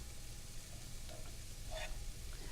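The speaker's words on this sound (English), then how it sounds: "all you need to do is wilt down the spinach so it's just barely cooked" Low, steady sizzle of fresh spinach wilting in a hot wok, a soft continuous frying hiss with a couple of faint stirring scrapes.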